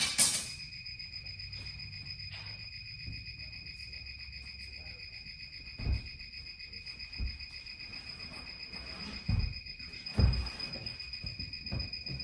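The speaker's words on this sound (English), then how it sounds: "Modern day cricket." Crickets chirp in a steady, high, continuous trill throughout, fairly faint, with occasional low thumps and soft sounds beneath.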